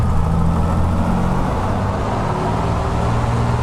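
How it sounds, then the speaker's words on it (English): Four piston engines of an Avro Lancaster run up together in Microsoft Flight Simulator, a steady dense low drone that holds at a constant loud level throughout, with no voices over it. "And we'll run up the engines here."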